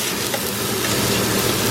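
Ingredients in olive oil caramelizing in a pan for a beef mince spaghetti sauce, giving a steady, dense sizzle and crackle that runs on without a break.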